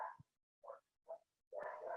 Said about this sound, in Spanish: quizá hay unos perros que están ladrando